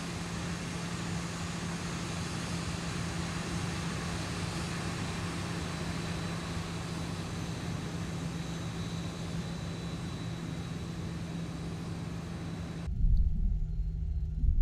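Steady, loud jet engine rumble and hum from a Zibo Boeing 737-800 in Cebu Pacific livery taxiing in X-Plane 11, continuous and even throughout, ending in a brief heavier thump.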